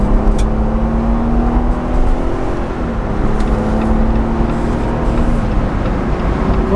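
A 2022 Jeep Wrangler Rubicon straining as it accelerates up a highway on-ramp, its engine droning loudly and steadily from inside the cabin with a rising, gear-shifting pitch and broad road rumble beneath, no talk.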